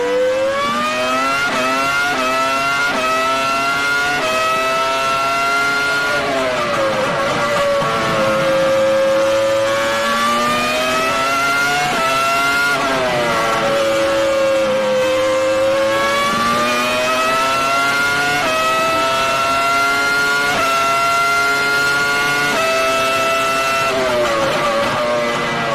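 Formula 1 car at the Austrian Grand Prix, its engine screaming loud and near, pitch climbing through gear after gear with brief drops at each shift.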